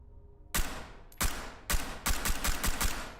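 Loud gunshots from a firearm in the tactical shooter Ready Or Not, fired at a trap: a few separate sharp blasts, then a rapid burst of several close shots, with no talk.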